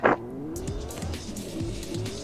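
Car driving in the video game Fortnite: a revving engine with tire squeal and skidding, close and fairly loud, preceded by a short burst at the start.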